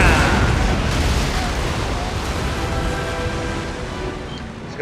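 Cannon broadside from sailing warships in an Empire: Total War naval battle, a dense rolling rumble of booming shots with sea wash underneath, loud and sustained throughout with voices faintly mixed in.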